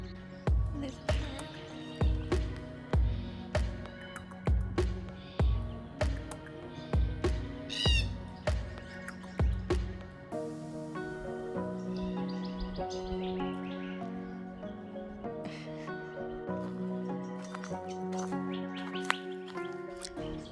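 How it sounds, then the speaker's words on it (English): A parrot in a Perth wildflower reserve giving a run of harsh repeated squawks, fairly close, followed by softer chattering calls, with a person talking intermittently. "There's a parrot."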